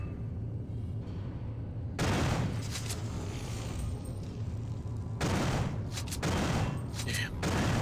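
Bursts of rapid gunfire in System Shock 2 against attacking creatures, loud clustered volleys separated by brief lulls over a low droning background.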